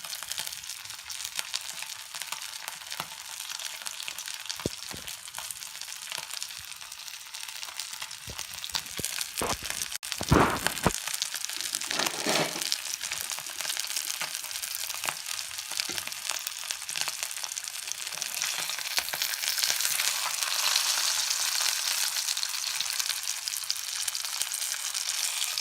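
Vanjaram fish fries hotel-style in a pan with a continuous soft sizzle, faint and steady, briefly disturbed by a few scraping stirs near the middle.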